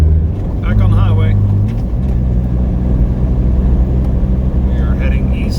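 A vehicle cruises on a highway in the Ozarks, with a steady low engine and road drone throughout and a person briefly talking near the start and again toward the end.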